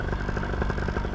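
A paramotor engine runs steadily during a ground test, making a loud, close, continuous throbbing drone with no throttle changes.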